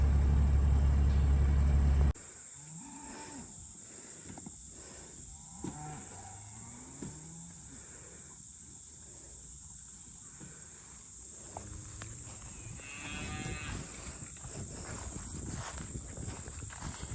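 Cattle low and moo at a distance on a farm, several drawn-out calls over a breezy outdoor background with a faint vehicle hum, after a brief loud rumble at the start.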